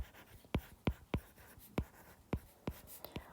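Pen strokes on paper while a trace calculation is written out, a series of about eight quick, sharp scratches spaced irregularly, close and fairly quiet.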